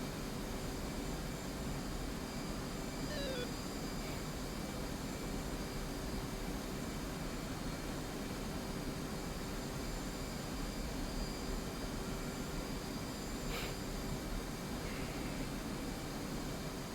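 A jet aircraft in a military video game passes overhead as a steady, broad roar, continuous and fairly even throughout, with no speech over it.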